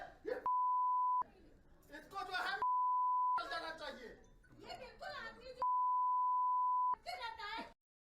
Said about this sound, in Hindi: वो आपने सुना ना sound beep beep beep beep